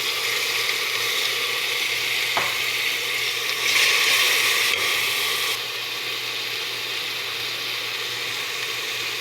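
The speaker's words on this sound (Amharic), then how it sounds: "እንደዚህ ሽንኩርቴን በደንብ ጥብስ ካደረኩት በኋላ የተፈጨ ቲማቲም አለኝ፣ እሱን እጨምራለሁ ማለት ነው።" Crushed tomato tipped into well-fried onions for chicken kabsa, giving a steady close sizzle and frying hiss that brightens midway and then settles back down, with no talking.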